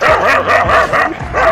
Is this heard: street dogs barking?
yes